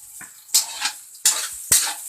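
Hotdog cooking in a pan, with several sharp bursts of sizzling and metallic scrapes of a utensil against the pan, separated by quieter gaps, close and fairly loud.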